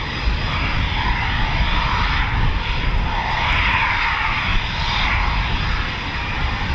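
A Eurofighter Typhoon FGR4 jet taxis at RAF Coningsby, its engine a loud, steady roar with a broad whooshing hiss that swells and eases slightly over several seconds; no voices.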